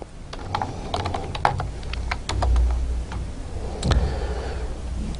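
Rapid, irregular clicking of keys on a computer keyboard as C++ code is typed, close up and alone, with short bursts and small pauses.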